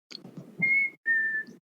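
A person whistles in imitation of a recurring two-note whistle, two sustained tones in a row, clear and close with a short gap between them and no speech.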